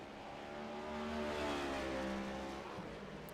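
Race cars from a Scrambler Series field in Michigan move down pit road in a pack, their engines droning and rising in pitch as they pass fairly close, with a steady swell of motor noise.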